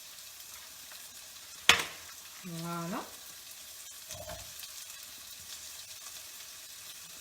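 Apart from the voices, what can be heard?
Basque-style chicken sizzling in the pan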